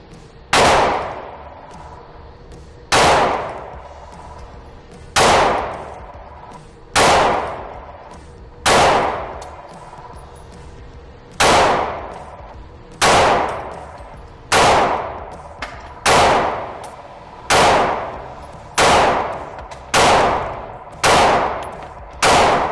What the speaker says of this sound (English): we loaded up 20 rounds into our S15 Shield Arms magazine with the extension. And we're just gonna see how it cycles